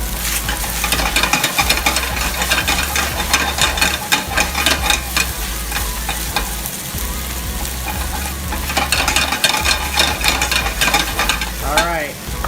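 Udon noodles stir-frying in a hot pan with a full chopped scallion just added give off a loud, steady sizzle, broken by a few scraping stirs.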